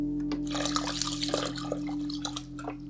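Water runs and trickles steadily into a bucket being filled to the 3 litre mark for passive hydroponics, with splashy drips throughout over a constant electrical hum.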